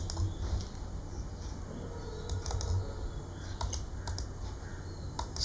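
Faint, rapid clicks of keys on a computer keyboard while entering units in Tally accounting software, scattered in small clusters over a steady hum.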